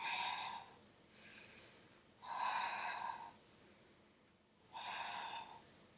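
Deep breathing during a Pilates exercise, close and soft, with three long breathy exhales separated by quieter pauses in a slow, even rhythm, and no talking.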